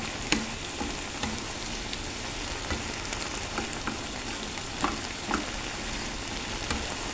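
Garlic and chili sizzling in hot oil in a pan, a steady crackling fry with scattered small pops and occasional stirring clicks, close and continuous.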